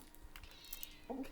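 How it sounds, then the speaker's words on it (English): A cat named Fiona gives a short meow near the end, brief and fairly faint, after a few soft background clicks. "She really wants to be fed, so I guess I'll be back in a few. Yeah, it's a cat."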